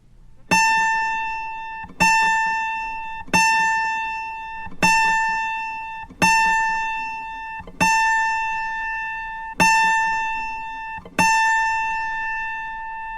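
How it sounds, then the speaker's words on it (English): An autoharp's A string, the 33rd string, plucked alone as a tuning reference pitch, rings clearly eight times in a steady rhythm, each bright tone decaying before the next pluck. "Two more strings higher brings us to A,"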